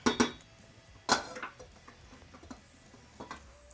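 A spoon clinks and scrapes against a bowl while stirring cream cheese, with two sharp knocks at the start, another bright clatter near one second, then softer intermittent scraping taps, close and fairly quiet.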